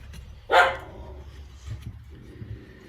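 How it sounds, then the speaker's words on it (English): A dog gives one sharp bark in the background, followed by faint lower rumbling noises in a quiet space. "It looks like we've got dog barking"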